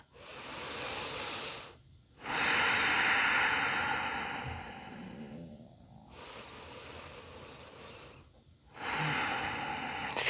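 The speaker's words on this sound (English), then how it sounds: "We're going to take 5 deep breaths in here, keeping that bottom up." Deep, slow breaths in a yoga pose, long airy inhales and exhales in steady cycles with short pauses between, close and clearly audible, with no talking.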